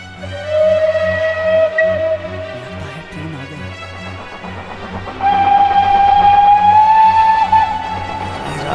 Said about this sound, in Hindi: लगता है ट्रेन आ रही है।